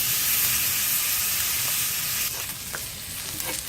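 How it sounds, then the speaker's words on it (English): Pork chops brushed with barbecue sauce sizzle loudly on a hot grill as they char. The hiss is dense and steady, with faint pops and crackles near the end. "barbecue sauce side down. We're going to give them a nice char."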